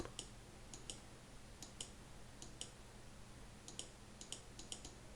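A computer mouse clicks quietly and sharply, singly and in quick pairs at an irregular pace, with faint room hum underneath and no talking.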